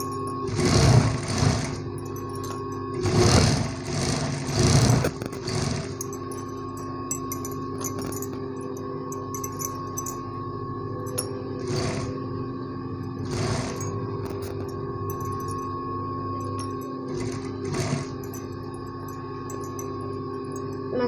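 A sewing machine stitches a blouse sleeve, running in short rattling bursts separated by pauses, with a steady motor hum underneath, close and fairly loud.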